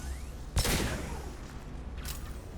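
Gunfire in the video game Mass Effect Legendary Edition: a sharp burst of shots, then a second fainter burst, over a steady game background with no talk.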